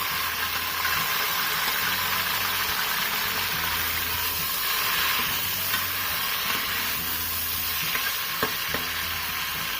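Two tomatoes frying in a pot of oil for Pakistani biryani, a steady bright sizzle that holds throughout with occasional soft stirring clinks and scrapes.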